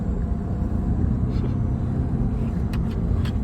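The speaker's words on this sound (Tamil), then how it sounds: "வண்டி 3ஆம் கீர்ல போகுது." A vehicle engine runs steadily in third gear, a loud continuous low rumble with road noise and no clear revving changes.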